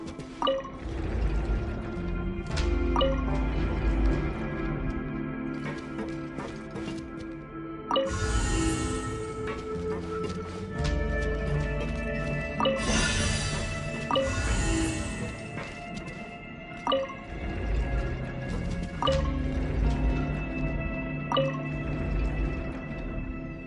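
Video game water mechanism with repeated drips and clinks over a trickle of rising water, joined by resonant metallic pings and sustained tones, near and steady throughout.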